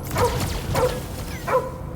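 Three barks from Cosmo the dog in Guardians of the Galaxy, short and evenly spaced at mid volume over a low background rumble.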